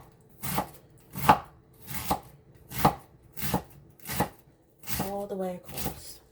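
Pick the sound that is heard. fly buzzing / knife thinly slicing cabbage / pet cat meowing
knife thinly slicing cabbage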